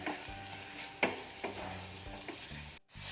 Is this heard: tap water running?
no